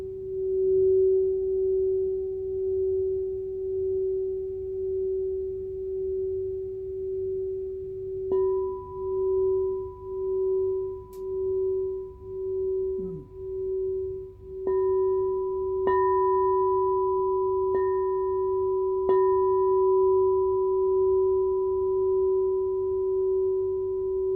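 A 7-inch singing bowl tuned to F# sustains one pure ringing tone that swells and pulses as it is rubbed after striking, with higher overtones joining partway through.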